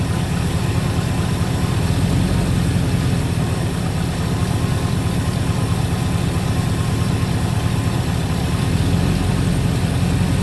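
Freshly refreshed Ford 400 V8 running steadily after its first start, a loud, even low rumble that stays constant throughout with no talk over it.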